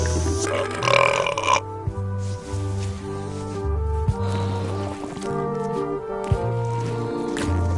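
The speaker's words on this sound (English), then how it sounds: "They're excellent for burping contests." Burping contest in Return to Monkey Island, a series of long, deep, gurgling belches in succession, loud and close, with a brief hissy burst near the start and no talking.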